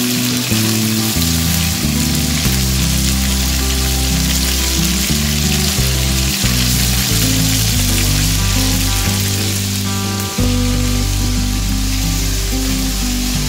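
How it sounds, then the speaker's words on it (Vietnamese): Frog meat frying in a pan for a stir-fry with banana root gives a continuous bright sizzle, heard under loud, steady background music throughout. "chiên cho săn thịt này bắt đầu mình mới xào được."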